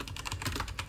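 Quick, light clicking of computer keys as a track name is typed into music recording software, a brief burst of close, soft keystrokes with no talking.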